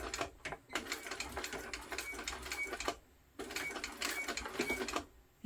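A sewing machine back stitches a tote strap in two short bursts of rapid mechanical stitching separated by a brief pause, close and moderately loud with no talk.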